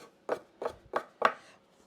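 A knife cuts through flatbread dough in a home kitchen: four short, evenly spaced muffled thuds with a soft scraping edge, close by, with no talking.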